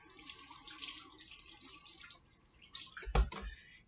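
Water from a kitchen tap runs and splashes in a sink during hand washing, a soft close trickle with faint drips and one brief clunk near the end.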